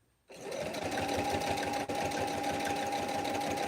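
A sewing machine starts up and runs steadily, stitching fabric for a ghost pillow, a close, even mechanical whir with a rapid needle rhythm and one brief hitch midway.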